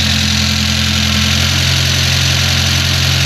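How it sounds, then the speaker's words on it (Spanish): A Renault Supercinco with a swapped-in 1.4-litre 1400J engine of 72 hp idles steadily up close, its even, throbbing hum holding a stable, unwavering tone throughout with no other sounds. "Ha quedado súper estable, suena muy bien, no falla, se aguanta el relentín perfectamente"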